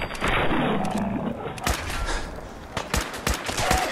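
Gunfire in Fallout 4 played in VR, a string of sharp, close shots spaced unevenly over a growling, roaring creature and some muffled game noise.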